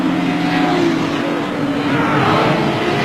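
Racing motorcycle engines, led by a Suzuki, screaming at high revs during a race lap at Carnaby, a steady loud roar with no break.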